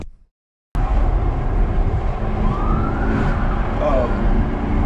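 A police car siren wails behind a Lamborghini being pulled over, a rising and falling tone over loud engine and road noise after a brief silence, with voices faintly underneath.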